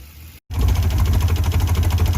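An old Ford Bronco II engine, long left sitting, cuts out briefly and then catches and runs on its own fuel, settling into a loud, steady, rumbling idle close by.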